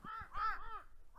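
Crows caw in the countryside with a few harsh, hoarse calls in quick succession, fairly close and clear over a quiet background.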